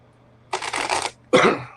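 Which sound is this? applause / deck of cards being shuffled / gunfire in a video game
deck of cards being shuffled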